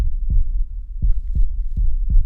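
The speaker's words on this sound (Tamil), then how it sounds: "ஹார்ட் பீட் ரொம்ப ஜோரா அடிக்குது." A fast heartbeat thumps in deep, close pulses, five beats in quick succession with a faint low hum between them and no talking.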